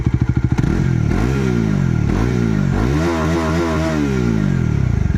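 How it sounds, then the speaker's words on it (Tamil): A 2024 Bajaj Dominar 400 motorcycle cranks and fires up, then its engine revs several times with a loud, close, thumping exhaust note. "வண்டி ஸ்டார்ட் பண்ணுறேன். வண்டியோட எக்ஸாஸ்ட் நோட்டு கேளுங்க."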